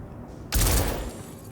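Gunfire in the Star Citizen prison, a loud burst of shots at close range that kills an unarmored prisoner, sudden and sharp over a steady background hum.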